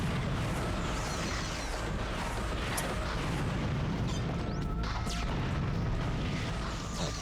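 Booming bomb blasts and crashing debris from the video game Ratchet & Clank rumble loudly and continuously, with deep low thuds and scattered sharp cracks layered over a dense, steady roar of game noise.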